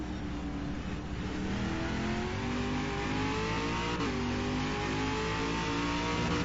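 A V8 Supercar engine held on the throttle in a racing video game of the 2009 Bathurst 500k, a steady loud drone climbing slowly in pitch with a brief dip midway, continuous throughout.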